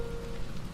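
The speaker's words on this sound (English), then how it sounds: "Raining. For once, I'm not in it." Steady rain falls outside at night, a soft continuous wash of drops on surfaces, heard from indoors at moderate level with no voices.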